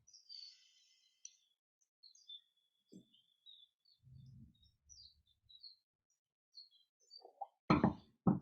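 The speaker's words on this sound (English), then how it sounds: "There's so many birds chirping." Birds chirp and tweet in short scattered calls on a spring day in Long Beach, California, light and fairly close, with a few soft thumps and a brief louder burst near the end.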